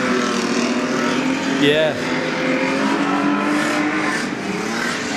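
Ford Falcon and HQ Holden street stock cars racing at a Wellington stock car meeting, engines roaring and revving continuously nearby, with a brief rising whine, as a voice briefly speaks over the din.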